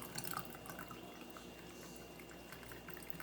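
Coffee being poured over caramel in a glass for an iced caramel macchiato, a soft, steady trickle of liquid running close by with a few faint drips.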